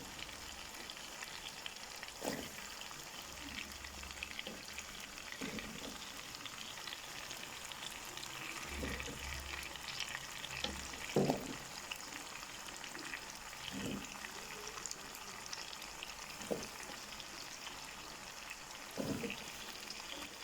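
Potatoes fry in spiced masala for aloo chicken, giving a steady, soft sizzle with occasional louder crackles and pops. It stays fairly quiet throughout and no one speaks.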